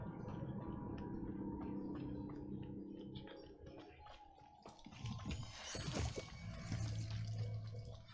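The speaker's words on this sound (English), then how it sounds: "The waterfall." A waterfall rushes steadily in the Hogwarts Legacy game world, with running and splashing water throughout and a louder surge near the end.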